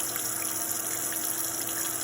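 Cool tap water runs steadily into a slow sink drain, making a continuous close rushing splash with no pauses.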